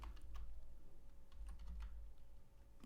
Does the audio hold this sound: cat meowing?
no